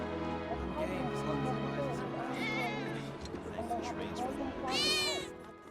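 A cat meows in the video game Final Fantasy 7, with a couple of clear, close mews over a steady bed of game music and background sound.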